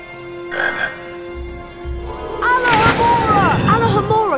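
A chocolate frog croaking in the Harry Potter and the Chamber of Secrets PC game, with a low rumbling game effect and then warbling, rising and falling croaks over a busy background.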